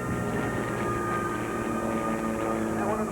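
Six aircraft flying in formation at an air show, a steady broad engine drone and rumble holding constant for a few seconds with no distinct breaks.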